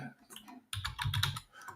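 Rapid typing on a computer keyboard, a quick dense flurry of close clicks and taps after a brief quieter lead-in, fairly soft overall.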